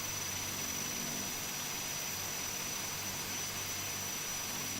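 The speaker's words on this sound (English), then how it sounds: "engine number 2 is now spinning" Number 2 turboprop engine of an ATR72-600 spins up, a steady loud whining roar with a high tonal whistle that holds evenly throughout, close and without speech.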